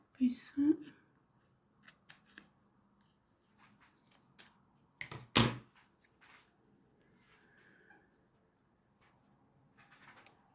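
Scissors snip through a paper label in a few quiet, sharp cuts, with soft rustling between them and a speaking voice early on in a calm indoor setting.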